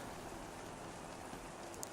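Rain at the China circuit in an F1 racing video game, a faint, steady hiss of falling rain on surfaces with no engines or voices standing out.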